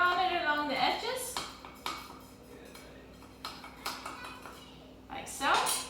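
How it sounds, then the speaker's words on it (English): A knife or small offset spatula runs around the edges of a Victoria sponge cake tin, giving a few short metallic scrapes and clinks separated by quiet pauses, with a louder scrape near the end. "take a knife or a small offset spatula and just run it along the edges."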